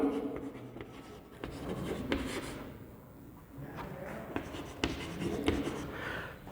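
Chalk or marker scratching across a board during a lecture, a run of rapid scraping strokes with brief pauses between words, close and clear without speech over it.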